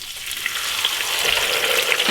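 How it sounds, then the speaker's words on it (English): Steady hiss and sizzle of fries cooking in a single layer in a deep fryer basket, loud and close, bubbling oil crackling continuously with no talk. "So I'm just gonna do a single layer in the basket of my deep fryer."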